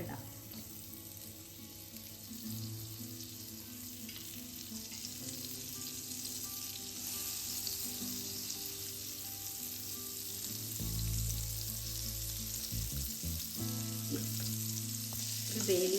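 Butter sizzling in a pan heating for paneer butter masala, a steady frying hiss with clattering and a louder burst of sizzle later on, no talk over it.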